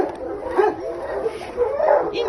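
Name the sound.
small fluffy dog barking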